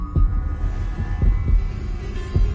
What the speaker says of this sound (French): Tout commence par un battement de cœur